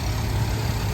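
A matching-numbers 428 Super Cobra Jet V8 in a 1970 Shelby GT500 convertible, still fitted with original smog and AC equipment, runs at a steady, loud idle with a deep low rumble and no talking.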